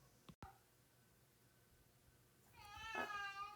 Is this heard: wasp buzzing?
no